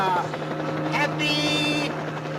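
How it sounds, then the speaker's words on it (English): A helicopter flies in toward the listener with a steady low rotor drone that holds throughout, while a voice talks over it. "It's a helicopter. And it's coming this way."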